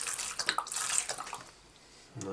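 Tap water squirted from an old washed-out plastic mustard bottle, a close hissy spray of short bursts that fades to quiet before a brief renewed splash at the end.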